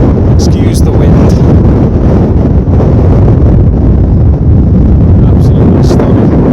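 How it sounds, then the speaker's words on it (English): Fierce gusts batter the microphone on a Lake District mountain top near Wasdale, a dense, unbroken rumbling roar that stays loud from start to finish, with a voice barely audible beneath. "Excuse the wind."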